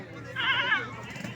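Mixed-breed goat bleating at a Multan livestock market, one wavering bleat up close, with people talking in the background.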